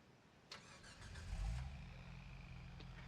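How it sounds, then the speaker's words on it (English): A vehicle engine in the video game Jurassic World Evolution 3 turns over with a sharp click, then rumbles up into a low steady idle that holds at moderate loudness, with no talk over it. "Why would you turn the engine off in here?"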